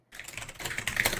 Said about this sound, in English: I was typing something else.